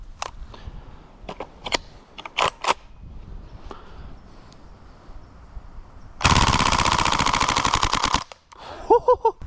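A gas blowback airsoft submachine gun rips off a loud, dense full-auto burst of about two seconds, preceded by a few scattered single clicks and followed by a couple of short taps.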